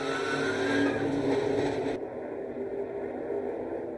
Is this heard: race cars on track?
yes